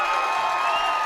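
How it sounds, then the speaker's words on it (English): A basketball crowd at a Cuesta College women's game screaming and cheering after a tying three-pointer, a dense, loud, sustained roar of many voices filling the gym. "As the screaming and cheering was going on"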